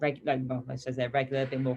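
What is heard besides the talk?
None of the usual background noises is heard.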